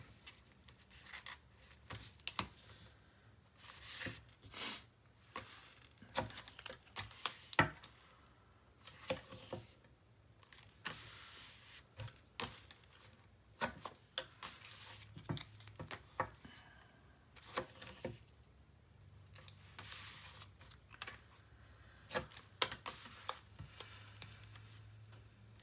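Adhesive tape is pulled off a roll and rubbed down by hand while assembling a 9 x 9 paper mini album, giving a series of short, faint tearing and rubbing strips with quiet pauses between them.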